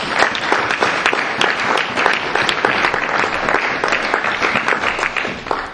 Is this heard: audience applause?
yes